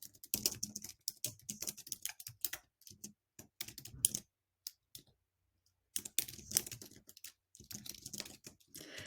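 Rapid clicking keystrokes on a computer keyboard while an email is written in a client-management app, coming in quick bursts broken by a short pause, close and fairly quiet.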